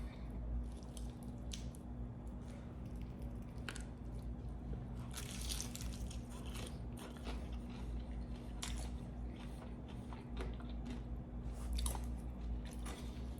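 Jollibee chicken eaten with ranch sauce, wet chewing and squishy bites repeating steadily up close over a low constant hum, with no talking.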